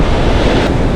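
Loud, close rush of ocean waves and wind at a reef, a dense roaring wash with heavy wind buffeting the microphone, no speech.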